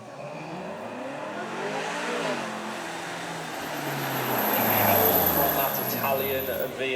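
An Italian 4.3 litre front-engined V8 convertible supercar pulls away at a Beaulieu supercar show, its engine note climbing through rising revs and growing louder as it moves off, with commentary talk running over it.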